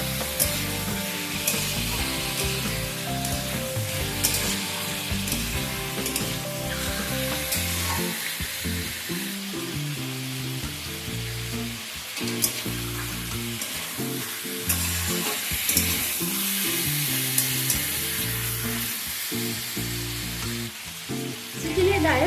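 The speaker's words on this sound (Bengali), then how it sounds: "ফ্লেমটা মিডিয়াম টু হাইতে রেখে চিকেনটাকে প্রথমে একটুখানি ভেজে নেব" Chicken fries in a pan on a medium-high flame, a loud, dense, continuous sizzle with steady scraping and stirring throughout, no voices.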